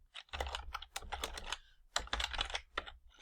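Rapid, uneven bursts of computer keyboard typing while entering a search term into a Salesforce Apex collection map test, close and crisp, with a short pause midway before another run of keystrokes.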